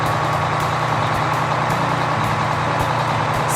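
A school bus engine rumbles steadily and loudly at close range, with a continuous heavy diesel drone and faint periodic higher clicks, no voices.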